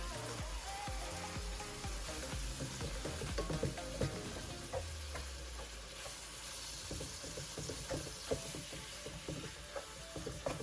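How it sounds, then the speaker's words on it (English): Ground Wagyu beef cooking in a pan with its juices, a steady close sizzle and frying hiss with occasional stirring scrapes throughout. "You can wait till the ground beef cooks thoroughly all the way through"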